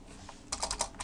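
Keystrokes on a computer keyboard, a faint quiet stretch followed by a quick burst of about six crisp, close clicks in steady rhythm.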